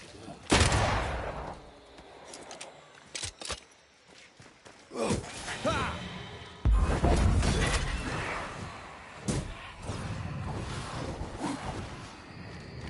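Gunfire in the video game Banishers cracks out in sharp, scattered bursts against a busy backdrop of rumbling, clattering game noise, some shots loud and close, others quicker and clustered.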